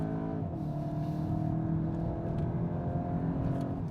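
A Volkswagen GTI's engine revs while driving, a steady loud drone whose pitch dips and then holds level, continuous for a few seconds with no talk.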